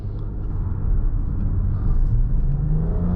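Steady, loud engine rumble and road roar inside a 2024 Nissan Rogue Platinum with the VC Turbo engine, accelerating in sport mode onto a highway, building slightly in intensity with no talk.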